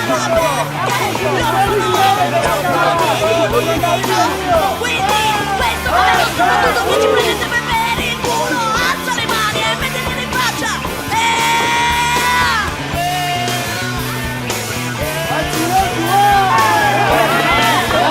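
A crowd at the close of a police raid shouts and yells amid pushing and scuffling, with dense overlapping voices, loud cries and whoops forming a constant, close, chaotic roar that never lets up.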